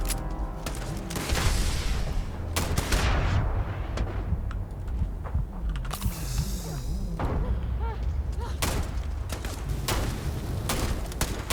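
Rapid bursts of gunfire and heavy booms from weapons in the space RPG Starfield, dense and continuous throughout with thuds and blasts layered over game noise, with some voice in the mix.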